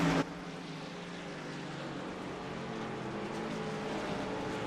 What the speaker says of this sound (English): So while Rich Jett burns it out on the front straightaway